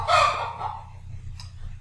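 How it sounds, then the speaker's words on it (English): A chicken gives a short, loud clucking squawk close by that trails off, followed by a faint low hum. "Chicken intermission."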